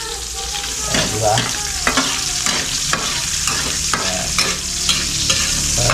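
Pork fries in its own rendered fat for dinuguan, sizzling loudly close by while a spoon or spatula scrapes and stirs it in repeated strokes, and a brief word is spoken over the sizzle.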